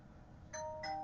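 A two-note doorbell chime in a Hypixel Skyblock game session, with the first tone ringing out at mid-clip and a second tone following quickly after. It is moderately loud and clear above a faint background hum.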